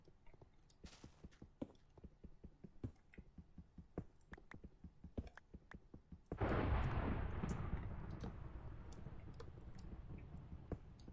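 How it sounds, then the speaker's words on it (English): Thunder in Minecraft crashes in abruptly partway through, a loud broadband rumble that slowly fades, following a stretch of rapid clicking and tapping game sounds. "That was a very dramatically timed thunder."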